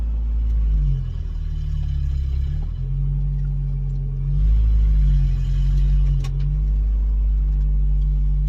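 A 1987 Toyota 4Runner with a 22RE engine drives steadily after a 4WD shifter fix, its low engine drone and road rumble continuous and close, swelling slightly midway with a faint click near the end.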